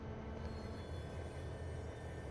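Steady rumble of a heavy freight train rolling in the rail simulator game Trainz while the locomotive suffers wheel slip, a constant low mechanical drone without any voices.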